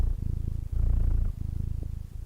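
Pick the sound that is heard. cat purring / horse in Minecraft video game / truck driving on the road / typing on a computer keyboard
cat purring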